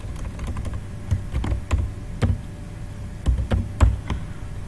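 Computer keyboard typing while text is entered in Microsoft Office. Scattered, irregular key clicks and taps fall in small clusters at close range against a quiet background, with no talking.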